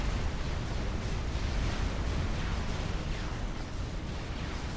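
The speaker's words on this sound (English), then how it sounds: "starting to feel the pain of these torpedo bombers as they unleash massive amounts of torpedoes onto the experimentals" Dense, continuous rumble of torpedo explosions from massed torpedo bombers striking experimental units in Supreme Commander: Forged Alliance, a loud, unbroken wall of booms with no clear gaps.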